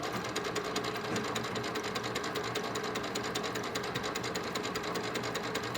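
Sewing machine running steadily as it stitches a locked seam through a bag, a continuous close mechanical whir with rapid needle chatter and no talk.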